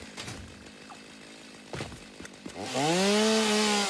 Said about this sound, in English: I do love the AoE clear of the chainsaw though.